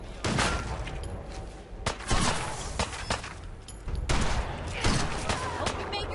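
Sustained gunfire in a Fallout 4 firefight, bursts of shots and volleys rattling back and forth over about six seconds, loud and dense with brief lulls, with a voice speaking over the shooting.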